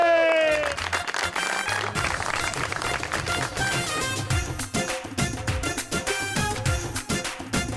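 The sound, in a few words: studio audience applause for a guest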